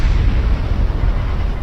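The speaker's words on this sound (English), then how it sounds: "That was an explosion." A spaceship explosion in the video game Star Trek Online, heard as a loud, deep, rumbling blast that fills the whole short stretch with heavy low-end roar and no voices.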